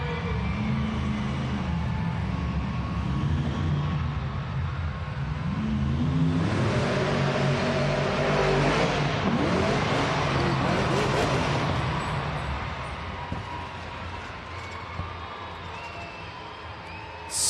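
El Toro Loco monster truck in an indoor arena event, loud engine roaring and surging with a big crowd cheering throughout, rising to a dense peak midway, with an announcer talking over it.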